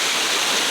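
Steady, loud broadband roar of a waterfall in Rishikesh, water pouring straight down from above, heard up close and unbroken with no voices.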